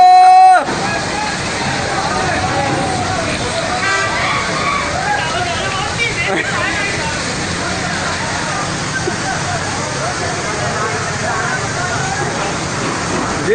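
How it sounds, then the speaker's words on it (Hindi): Floodwater rushes hard through flooded streets of Karachi after heavy monsoon rain, a steady loud roaring and sloshing that fills the whole stretch without letup, with a faint murmur of voices beneath. "पानी का बहाव बहुत ज़्यादा है।"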